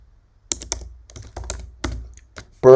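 Computer keyboard keys being typed in a short run of separate clicks and taps, close and fairly crisp, with a louder clatter of keystrokes at the end.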